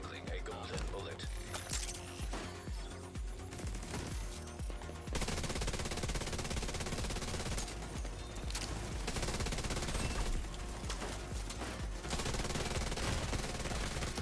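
Rapid automatic turret gunfire rattles in The Division 2, sustained bursts of dense, crackling shots that grow louder and more continuous partway through, with little pause.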